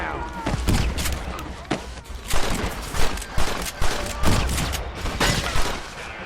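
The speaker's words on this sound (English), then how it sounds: "Oh, shotgun, what the hell?" Repeated booming shotgun blasts in Red Dead Redemption, a rapid volley of loud shots amid dense gunfire and game noise, with voices underneath.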